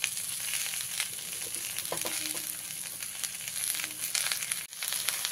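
Pumpkin greens, stems and leaves sizzle steadily in a pan with eggplant and green chillies, a continuous close hiss punctuated by crinkling stirs and small crackles, with no talking.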